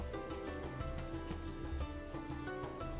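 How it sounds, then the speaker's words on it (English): Rain falls in the Northgard video game, a dense, even patter over a steady bed of low tonal game sounds, unbroken for a few seconds. "Maybe this is a rainy storm that's happening."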